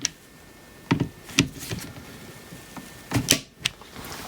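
A torque wrench tightening the mounting screws of a Leupold DeltaPoint Pro optic on an M&P CORE pistol at 25 inch-pounds, giving a few close, sharp metallic clicks in two brief clusters over a quiet background.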